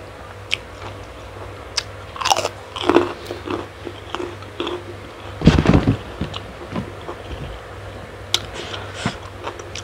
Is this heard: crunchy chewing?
yes